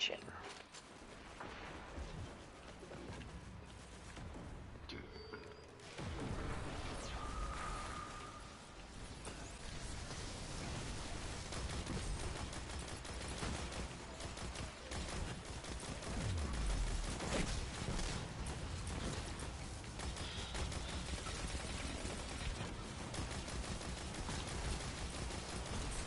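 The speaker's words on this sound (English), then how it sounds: "I need to switch to a machine gun, an auto rifle." Auto rifle machine gun fire in the video game Destiny rattles in dense, sustained bursts amid a busy battle mix of explosions and effects, with someone talking over it.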